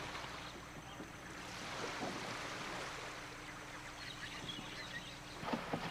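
Motorboats and canoes working a river in the Peruvian jungle, a steady low engine drone with water washing and wind noise, moderately faint, ending in a few brief knocks.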